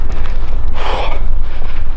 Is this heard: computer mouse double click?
no